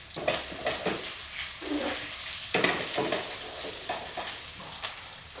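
Vegetables, including celery, fry in a pan as the base for pig's trotters, a steady sizzle broken by repeated scraping stirs of a utensil against the pan, with no voices.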